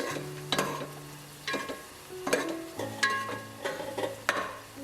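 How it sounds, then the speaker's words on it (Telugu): Onions and bay leaves frying on high flame for a chicken curry, a spoon or spatula scraping and stirring through the pan in repeated strokes over a soft sizzle, close and without talk. "ఆనియన్స్ ఇందులో వేసేసి ఒక 2 మినిట్స్ హై ఫ్లేమ్ లో ఫ్రై చేసి"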